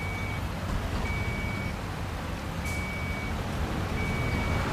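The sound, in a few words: truck reversing beeps in Construction Simulator video game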